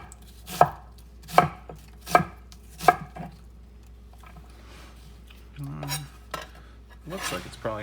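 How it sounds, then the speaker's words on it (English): A knife chops leek and red onion on a cutting board, four sharp evenly spaced thuds close by, followed by quieter scraping and clattering of cutlery and dishes. "So I'm just gonna chop this into very small pieces."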